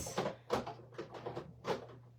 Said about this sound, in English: I'm down here checking my ink drawer